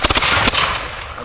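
A sharp volley of flintlock musket shots from a militia fall muster demonstration, several cracks in quick succession followed by a booming echo that rolls away.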